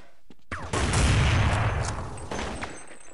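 Gunfire in the video game Counter-Strike on the de_train map, a sharp shot, then a dense rattling burst that fades into echoing decay, with another crack near the end.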